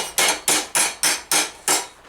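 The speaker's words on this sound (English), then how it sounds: "Just sticking with the raising hammer that I've got just to keep things a bit easier on the side of the material." A raising hammer forming a steel armor elbow couter, six sharp ringing metallic blows struck in an even rhythm about a quarter second apart, loud and close with no voices.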